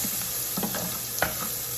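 Clams hit a hot pan deglazed with wine and garlic, giving a steady dense sizzle with scattered clicks and scrapes of shells being stirred, close and continuous.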